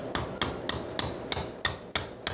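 A surgical hammer strikes a box cutter instrument during an SI joint fusion, producing a steady series of about eight sharp metallic taps at even intervals, close and crisp over faint room noise.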